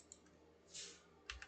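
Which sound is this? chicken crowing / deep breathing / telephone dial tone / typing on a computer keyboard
typing on a computer keyboard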